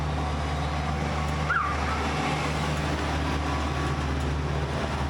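A truck passes by on the road with a steady low engine rumble and road noise that swells and fades, with no talking over it.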